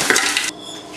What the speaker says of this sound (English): We're going to mix in the frozen chopped spinach